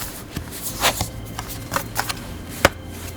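Oracle cards being shuffled by hand for a tarot reading, with soft, irregular riffling and a few sharper slaps and taps, close and fairly quiet, with no talking.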